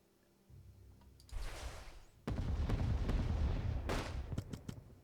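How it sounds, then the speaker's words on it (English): Naval bombardment in the strategy game Unity of Command II, a low rumbling barrage that swells in two heavy waves of booming artillery with sharp cracking impacts scattered on top, loud and sustained with no voices. "let's use our naval bombardment here"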